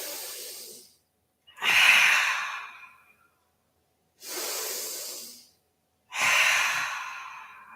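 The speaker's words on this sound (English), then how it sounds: "Deep, deep, deep breath in. And a complete breath out." Deep yoga breaths, four long airy exhalations and inhalations alternating with silent pauses, close and clearly audible with no talking.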